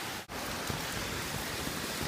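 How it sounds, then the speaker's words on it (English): Steady outdoor rain falling while someone waits at a bus stop, a dense even hiss throughout with one short dip near the start and no voices. "this is me in the rain, waiting for the bus"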